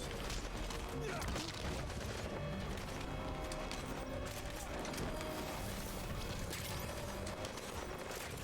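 Gunfire in the video game Metal Gear Solid V comes as a dense, continuous wash of distant shots and crashing impacts, steady and fairly faint, with no clear voice on top.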